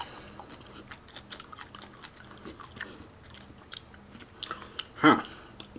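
Crunchy onion topping on sushi is bitten and chewed close up, irregular crisp crunches and soft mouth noises, with a louder bite near the end.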